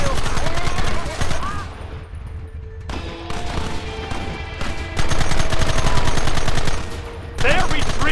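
Sustained video game battle gunfire, dense rapid volleys and machine-gun bursts filling the scene loudly, with brief lulls and voices shouting over the shooting.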